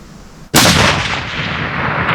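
Rifle gunshot fired at an elk while hunting in Oregon, a single sudden loud crack that booms and rolls away in a long echoing decay outdoors.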